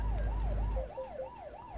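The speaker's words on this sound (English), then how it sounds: "Police car right beside me, giving me the ticket." A police car siren from the trucking game Euro Truck Simulator 2 wails in a smooth rising-and-falling cycle about twice a second, loud and close. A low engine rumble sits beneath it at first, then fades.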